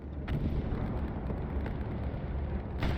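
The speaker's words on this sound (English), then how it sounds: "here comes a bombing run. It's going to be an Axis bombing run" Explosions from an Axis bombing run in a World War II video game set at Utah Beach rumble as a continuous low, heavy roar, with a few sharper blasts rising out of the din and no voices.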